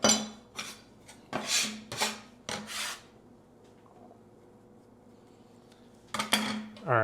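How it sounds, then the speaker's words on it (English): A knife rough-chopping green onions or chives on a board, several quick bursts of crisp cutting strokes, a quiet pause, then another short flurry of close chops, with no one speaking. "Just a rough chop, nothing too crazy."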